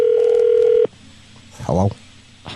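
A telephone is dialed during a radio station prank call, with a steady held tone that cuts off, followed by a short burst of a voice or ringing.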